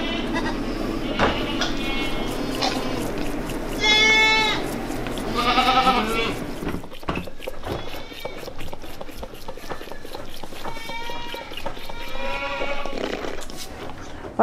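A lactating goat bleats a few times in a farm setting amid background noise and some voices, with wavering cries standing out around the middle of the stretch.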